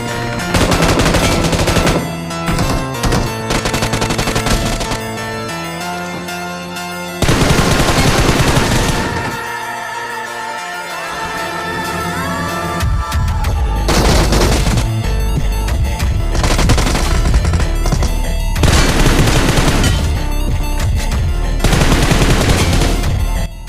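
Loud bursts of automatic gunfire from enemies in the mobile game PUBG Mobile, several rapid volleys separated by short pauses, with sustained tonal sound between shots.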